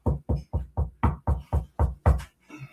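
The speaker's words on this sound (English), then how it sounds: "That is what the knocking sounds like." Knuckles rap on a kitchen table in a quick series of about nine sharp, evenly spaced knocks, close and clear, followed by a fainter bump at the end.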